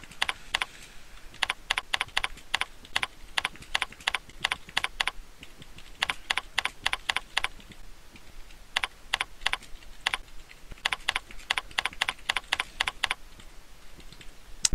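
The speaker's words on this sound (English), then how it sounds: "I can actually just type it in." Keys clatter on a computer keyboard in quick bursts of typing, separated by short pauses, close and crisp, with no talking.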